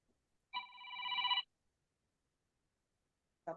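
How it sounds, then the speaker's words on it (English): A phone rings partway through a recorded anatomy lecture on the elbow and wrist joint, one steady electronic ring burst of about a second, then silence, and a second ring cuts in at the very end. "somebody's phone is ringing."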